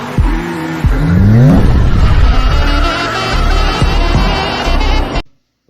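A car drifts with the engine revving hard at full throttle, then tires squeal and skid through a handbrake slide. The roar is loud and close, with several engine surges before it cuts to silence.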